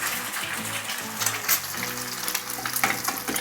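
An egg sizzles and crackles in very hot oil, a steady loud frying hiss with bright popping spatters throughout, no voices.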